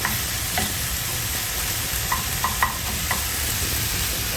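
Won ton filling stirred and broken up in a hot pan, a steady sizzle with occasional light scrapes and taps of a utensil, close and even, with no voices.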